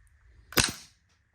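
An airsoft Desert Eagle pistol fires a single semi-auto shot, one sharp, close snap that fades fast in an otherwise quiet room.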